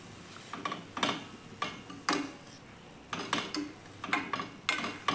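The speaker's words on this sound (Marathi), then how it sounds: "पूर्ण ढवळून घेतली" A cooked vegetable dish is stirred in a pan with a metal spoon, giving a series of sharp scraping clinks that arrive in regular bursts about once a second, close and fairly soft, with no talking.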